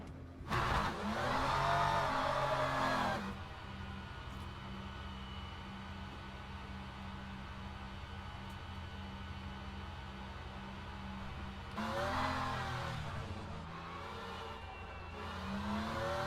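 Race car engine in the sim racing game Le Mans Ultimate, loud revving surges at the start and again later, with a steady mid-pitched engine drone and gear-shift sweeps in between, no talk.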